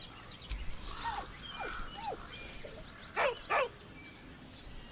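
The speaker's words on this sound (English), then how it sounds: "With a deep, heartbroken whine, the dog bows his head" The dog Scratch from Baldur's Gate 3 gives several short rising whines and whimpers, then two louder, higher drawn-out cries, close and clear over faint background ambience without talk.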